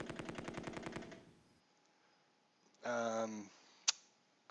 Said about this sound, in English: Oh, they got a couple of machine guns.